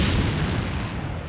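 A 500-pound bomb from a dive-bomber detonating, heard as a heavy, sustained roaring blast with deep rumbling body that stays loud across the whole short moment, with no voices.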